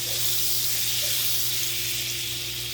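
About four tablespoons of butter sizzle in olive oil in a frying pan, a continuous close, bright hiss with a faint steady hum beneath and no talking.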